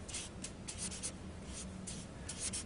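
Marker strokes squeak and scratch across a board in quick repeated bursts, close and fairly quiet, with no talking.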